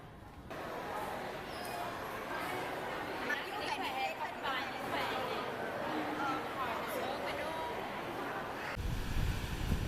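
Sea waves at Thuận An beach in Huế wash in as a steady, broad roar of surf blended with wind buffeting the microphone, with faint chatter of people in the background throughout.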